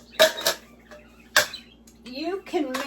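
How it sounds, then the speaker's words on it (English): Secondhand Sears metal cake pans clank and knock together as they are handled in a kitchen, with a few sharp metallic hits and a brief voice murmuring. "these are Sears cake pans, 3 of them"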